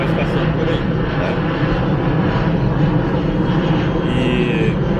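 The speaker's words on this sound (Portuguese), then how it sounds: "Daí passa aviões aqui, né, que decolam no aeroporto, vocês vão ver aviões passando por aí, né?" Airplane climbing out after takeoff from a nearby airport and passing overhead, a steady, loud engine roar that persists throughout, with someone talking over it.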